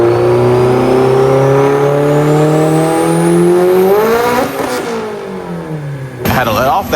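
A Mitsubishi Evo on a stock-block engine with an AGT 64mm turbo makes a dyno pull, a loud, steadily rising engine roar that climbs in pitch for several seconds, then breaks off as the throttle lifts, followed by a short harsh burst of noise.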